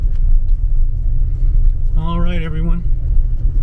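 A truck drives along a climbing dirt rim road on the Mogollon Rim under cloudy skies, its steady low engine and tire rumble continuous and close, while a voice speaks briefly in the middle.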